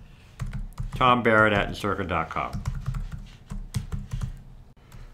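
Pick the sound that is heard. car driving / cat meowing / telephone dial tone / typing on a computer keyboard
typing on a computer keyboard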